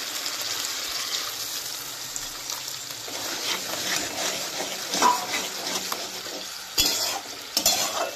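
Water added to fish curry masala in a hot pan gives a steady sizzle and bubbling, with occasional utensil stirs and scrapes, close and moderately loud, with no talking.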